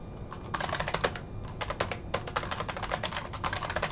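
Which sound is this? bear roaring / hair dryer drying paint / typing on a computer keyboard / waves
typing on a computer keyboard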